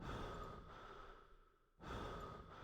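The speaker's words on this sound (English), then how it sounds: "we can listen to the sound of our character breathing" A video game character breathes slowly and heavily in two drawn-out, airy exhalations with a short pause between them, close and fairly quiet with no talking.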